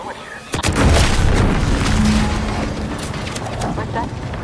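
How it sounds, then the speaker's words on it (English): In the video game Outer Worlds 2, a loud explosion booms with a sharp onset, then a rumbling roar that slowly fades under lingering noise. "What's that? An explosion?"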